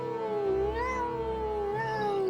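A cat meows at a window, drawn-out wavering cries repeated about twice, close and clear with nothing else audible.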